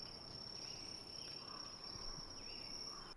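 Steady, continuous chirping of range crickets as ambient background during a Dungeons & Dragons session, a high-pitched constant trill with no talk over it.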